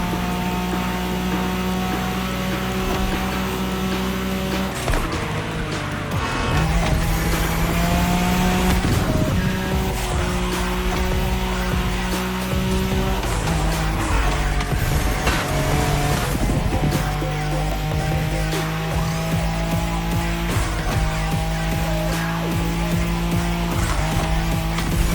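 A Nissan Skyline race car in The Crew Motorfest roars at full throttle with sustained engine drone, gear-shift pitch changes and bursts of tire squeal, loud and close throughout.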